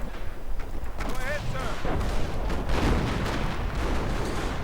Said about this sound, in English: More artillery to blast up the Panzer Grenadiers.